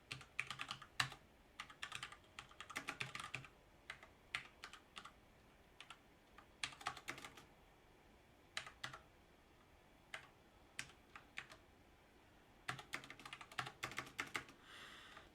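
Computer keyboard typing out code in bursts of quick clicking keystrokes separated by short pauses, close and fairly soft with no talking.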